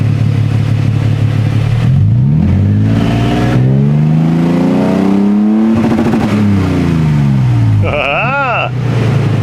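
A 2022 vehicle fitted with a Magnaflow Overland Series exhaust revs repeatedly, its loud, close engine note rising and falling in several sweeping pulls over a steady idle rumble.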